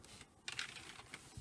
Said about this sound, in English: I like to know when you've touched the key, and there is just a reassuring little pop.